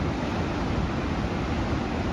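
Big swell at Imsouane, ocean waves breaking and rolling as whitewater, a continuous loud roar of surf with wind across the microphone and no pause.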